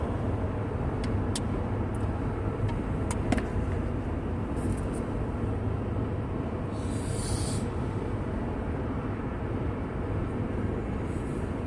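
Steady broadband road roar from a vehicle driving on a highway among trucks, a continuous close rumble with faint ticks and no voices.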